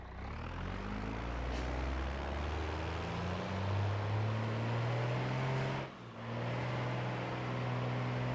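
Engine drone of a car held in first gear in the BeamNG driving game, loud and continuous with a rising then steady whine, a brief dip near the end before it picks back up.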